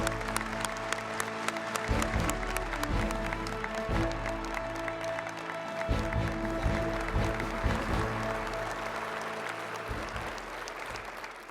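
Sustained crowd applause greets the Air Force Chief of Staff, General Schwartz, as he takes the stage, a dense steady wash of clapping lasting throughout with scattered sharper claps standing out.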